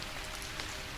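Steady rain patters densely on a surface in an even, continuous hiss with scattered drops, moderately loud and without voices, as a calm backdrop for late-night storytelling.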